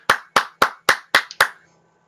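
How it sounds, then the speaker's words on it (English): Six sharp hand claps in a steady, even rhythm, close and clear with a short ring after each, then silence. "and then he claps his hands"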